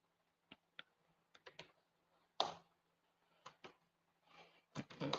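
Code being typed on a computer keyboard: sparse, quiet clicks come singly and in short clusters, with one louder burst of keystrokes in the middle and a quicker flurry at the end, over near silence.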